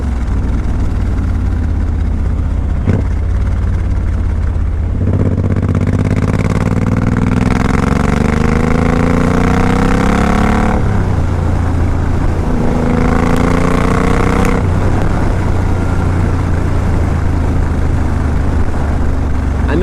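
A 2014 Suzuki M109R BOSS motorcycle engine runs at a low, steady idle, then rises through two revving pulls before settling back, loud and close with no talking.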